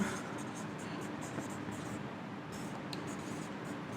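Chalk scratches steadily across a board during a chemistry lesson, a continuous dry, gritty rasp of writing with small pauses and no voices.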